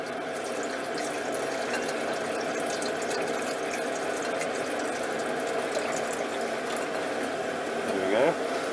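Hydrochloric acid is poured slowly into a vessel of hot water on a hot plate, making a steady hiss and trickle of liquid that runs continuously at moderate loudness, with a faint clink near the end.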